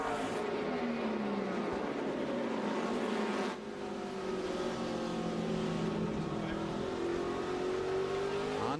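A NASCAR stock car at the 2006 Subway 500 runs loud and continuous with a troubled engine, its pitch sweeping and wavering as it comes off a corner, broken by a brief dip partway through under a wash of track noise.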